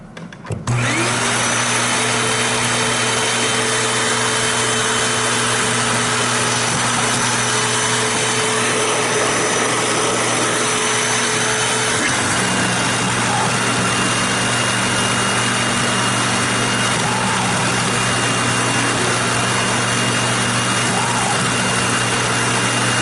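A Hoover WindTunnel U6485900 self-propelled upright vacuum cleaner switches on and runs loudly and steadily, holding a constant motor whine with a faint change in pitch partway through.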